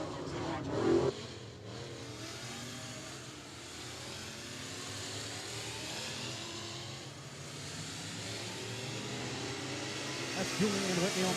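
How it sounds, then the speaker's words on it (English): A Pro Mod and limited modified race cars circle a dirt speedway during practice, their engines a faint, distant, continuous drone that swells slightly at the start and near the end. "As we roll another session, a pair of, looks like a Pro Mod and a couple of limited modifieds."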